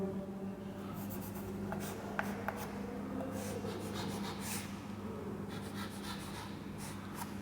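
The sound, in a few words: drawing a circuit diagram on a board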